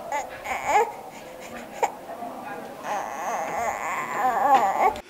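Two-month-old baby babbling and whimpering in short bursts, some rising toward fussy cries, fairly close and moderate in volume, with a little background voice.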